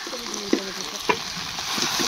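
Brinjal curry frying in a pan just after chili powder goes in, a steady close sizzle with a couple of soft stirring knocks and no talking.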